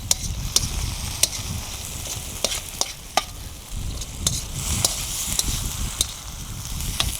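Cheese melting and sizzling in a pan over an open fire, a steady close hiss with a low crackling rumble and occasional sharp pops and scrapes throughout.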